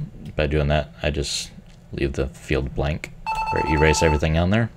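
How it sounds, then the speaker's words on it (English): A mobile phone ringtone chimes in the last second and a half, a steady melodic ring sitting under a man's continuous speech. "And that's my phone, but okay."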